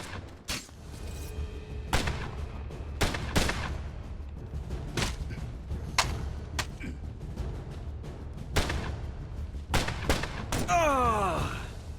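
Scattered gunfire in the Assassin's Creed Chronicles: Russia video game, with sharp shots spread irregularly across a rumbling background, a few close and loud, then a quick burst near the end with a whistling sweep.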